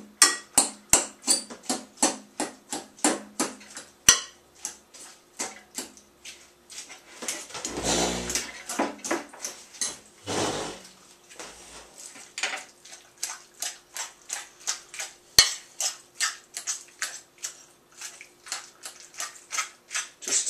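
Guacamole ingredients mashed and stirred in a bowl, a steady run of sharp utensil clicks and taps against the bowl with a brief duller scraping stretch midway.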